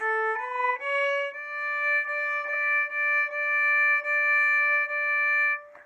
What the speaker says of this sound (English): Our third finger on our A string is a D.